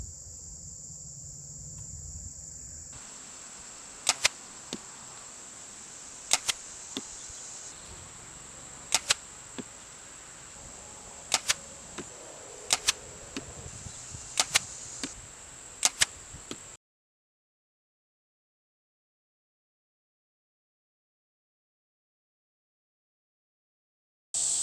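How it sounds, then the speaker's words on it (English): Broadhead arrows striking a target one after another, about ten sharp loud impacts spaced every second or two over a steady high insect-like hiss, then the sound cuts to silence. "there's a slight delay between the arrow passing it and hitting the target"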